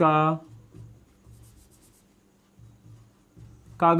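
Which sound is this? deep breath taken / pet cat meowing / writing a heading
writing a heading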